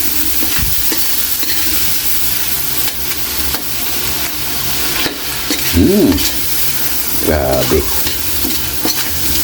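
Adobo being stirred and fried in a pan: a constant loud sizzle with scraping stirs and clinks of a utensil against the pan, and a brief spoken word over it.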